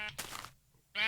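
Two loud, close sheep bleats from the Minecraft video game, one at the start and one at the end, separated by a short pause with a brief muffled bump in between.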